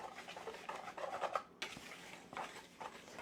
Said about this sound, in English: And then I like to use my whisk.